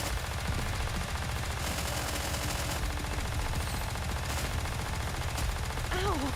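Rapid automatic gunfire from the Nikke shooter game runs steadily and loud throughout, with dense bursts layered over battle effects and a voice briefly heard near the end.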